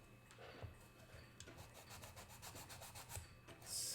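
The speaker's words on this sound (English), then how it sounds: "I take my sheet of sandpaper and cut it in half" Fine sandpaper rubs steadily over a wooden violin bow in quick back-and-forth strokes, a soft close scratchy rasp that repeats evenly throughout.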